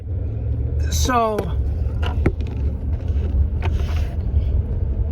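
A car being driven, a steady low road rumble with wind buffeting the microphone throughout, a brief whine and a few clicks from inside the cabin, someone speaking briefly near the end.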